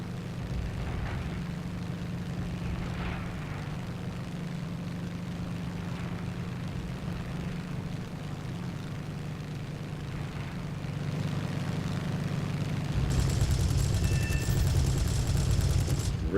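An F4U-1c Corsair's propeller engine drones at full throttle in a combat flight game, a steady low roar that grows louder and harsher toward the end.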